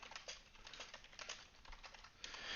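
Keys clatter on a computer keyboard in quick, uneven bursts of typing during a software coding session, close and fairly quiet, with no voices.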